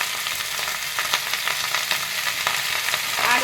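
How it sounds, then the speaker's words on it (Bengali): Bottle gourd greens sizzle and fry in a pan, a steady bright crackling hiss with scattered pops and stirring scrapes throughout, close and fairly loud. "এবারে আমি শাকটা দিয়ে দিচ্ছি"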